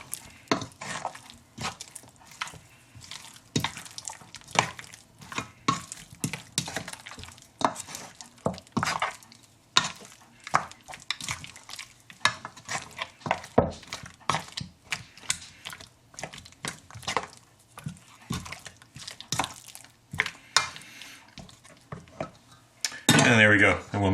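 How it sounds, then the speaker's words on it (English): Sweet and sour spare ribs tossed in a metal bowl to coat them, a fast irregular clatter of bones and utensil knocking against the sides, close and continuous. "just give them a good toss around, get them all coated"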